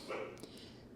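Puppies yip and bark faintly in the background of a quiet room, with a short burst of high, thin barking near the start.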